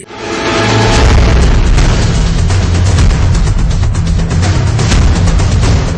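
A bomb explosion: a deep, heavy boom that swells into a loud, sustained low rumble lasting several seconds, with no voices.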